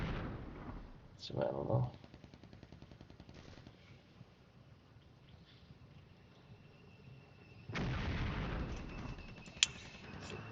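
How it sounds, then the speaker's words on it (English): Artillery barrages fire in a modern combined-arms wargame, with dull booming bursts and a rattling stretch of rapid gunfire, the loudest blasts near the start and end, and someone talks briefly over them. "Okay, my barrages are going in."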